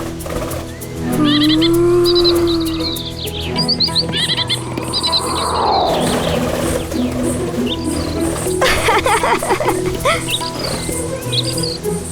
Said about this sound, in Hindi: इतने सुंदर पक्षी।